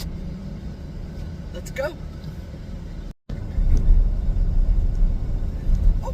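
Car driving on the road on the way to work, a continuous low engine and road rumble heard from inside the cabin, growing louder after a brief dropout, with a short spoken phrase early on.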